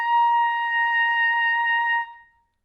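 A B-flat piccolo trumpet plays one held tuning note an octave higher than a standard trumpet, thin and pure, sustained evenly for two seconds and then cut off with a brief decay.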